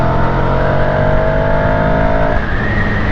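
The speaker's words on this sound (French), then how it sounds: "J'accélère fort, j'accélère même à fond." A car accelerating hard at full throttle in third gear in sport mode from just over 50 km/h. The engine roars loud and close with a steady climbing drone and a slight shift in tone near the end.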